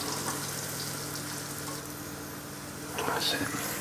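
Leeks frying in oil in a pan, a steady soft sizzle that carries throughout and swells slightly louder near the end.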